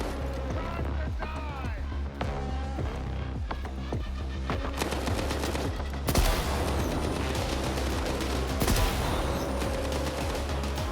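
Gauss gun shots in S.T.A.L.K.E.R. 2: Heart of Chornobyl, several sharp loud blasts among rapid game gunfire and clatter, with a heavy burst partway through and busy combat noise throughout.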